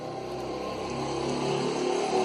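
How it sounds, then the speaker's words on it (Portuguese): A motorcycle passes on the street outside, its engine a steady rising drone from mid-distance, growing slightly louder toward the end with no talk over it. "passa moto na rua"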